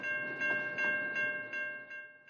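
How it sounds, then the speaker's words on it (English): A train crossing a busy road, its passing wagons giving off a steady rolling rumble with faint rhythmic clatter, while a sustained tonal hum runs through the whole span. "Trains cross this busy artery more than 40 times a day, holding up traffic often for 20 minutes at a time"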